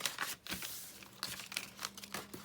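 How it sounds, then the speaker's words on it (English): Paper being folded back along a book cover used as a guide, with soft crinkling and brushing rustles in short, close, quiet bursts. "I find it easier to fold the paper back, and so I'll do it again with this one"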